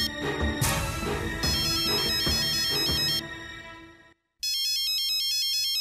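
A mobile phone ringtone for an incoming call plays loud and close, a busy electronic melody that cuts out briefly and then resumes with a repeating bright chiming pattern.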